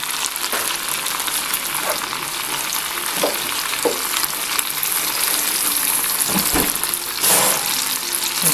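Limes tossed into a bubbling Cajun crab boil pot give a steady, loud boiling hiss with a few soft plops and splashes scattered throughout and no talking.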